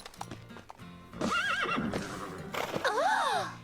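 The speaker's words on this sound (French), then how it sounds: "Et voilà mon cheval, Merveille." An animated cartoon horse whinnies in a long, wavering neigh, then again with a high rising call, over clip-clopping hooves and light background sounds.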